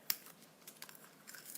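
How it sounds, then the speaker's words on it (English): Scissors snip open a pack of washi tape at a craft table, one sharp close cut followed by faint rustling and crinkling of the packaging, quiet and without talk. "I need some scissors to open it"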